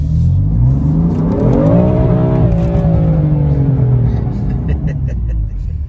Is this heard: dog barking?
no